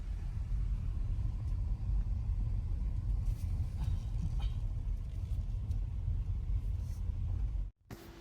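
Car driving through a narrow street in San Francisco, a steady low engine and road rumble heard from inside, continuous for several seconds before cutting off abruptly near the end.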